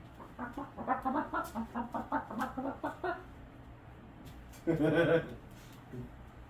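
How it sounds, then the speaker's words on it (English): A chicken clucks in a rapid, rhythmic run of squawks, then falls quiet and gives one louder burst and a faint final cluck, all fairly close, on a comedy stage. "introducing a chicken"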